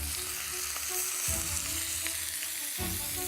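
Tuna steak sizzling and frying in a pan, a loud continuous crackle with a few brief shifts as the fish or pan is moved, close up and without talk.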